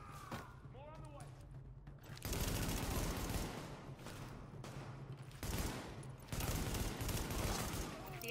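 Heavy gunfire in the beta of the video game The Division, loud bursts of rapid automatic shooting that start and stop in long stretches, with a brief voice heard faintly before the first burst.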